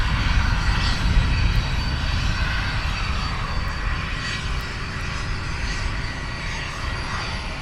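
Hawk T1 jet aircraft engines running at RAF Valley, a loud, steady roar with a high whine near the airfield, easing slightly after the opening seconds.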